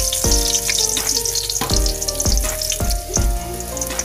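Ginger frying in a pan for chicken adobo, a steady close sizzle broken by several sharp clanks and knocks of utensils against the pan at irregular intervals, with no talk.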